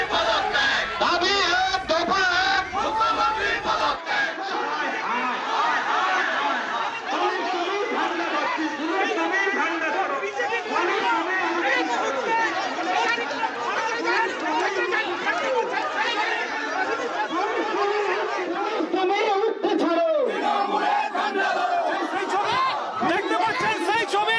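Dense crowd chatter and shouting from BJP supporters protesting outside a police station, a continuous loud din of many voices with no pause.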